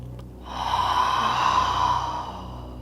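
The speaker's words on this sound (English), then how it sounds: "Close your eyes and take a few deep breaths." A slow, deep breath drawn in through the nose and released through the mouth during a gentle yoga relaxation, one long airy exhale rising and fading, close and soft with no talk.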